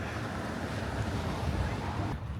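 Ocean water surges and churns in a rocky pit that feeds into a sea cave along the coast, a deep continuous rumble mixed with wind buffeting the microphone, steady and fairly loud before cutting off abruptly near the end.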